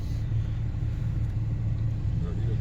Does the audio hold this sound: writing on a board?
no